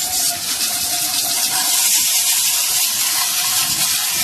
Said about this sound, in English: Wash off the loose debris.